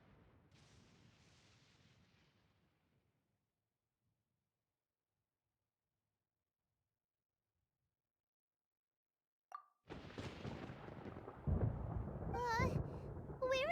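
Thunder in the video game Genshin Impact: a low rumbling roll fades away over a few seconds, followed by long silence, then a loud, sharp crash of thunder with further booming.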